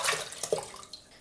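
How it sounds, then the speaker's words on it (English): Soaked shiitake mushrooms and stock poured into a pot of cold water for shoyu ramen, a brief close splash and gush of liquid that trails off into a few small trickles. "So pour the whole thing in."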